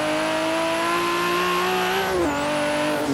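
Nissan Skyline R32 engine in Forza Horizon 3 revving hard in second gear, a loud, sustained, rising engine whine with a brief dip at a gear shift before the tone climbs again.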